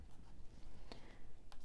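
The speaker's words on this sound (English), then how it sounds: "let me write these on stickers" Faint pen scratching while numbers are written on stickers, a few short quiet strokes close up in a calm room.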